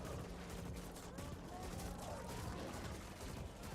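Gunfire from a player's weapon in a video game rattles in a dense, continuous clatter of rapid shots at fairly low level, with a voice faintly present underneath.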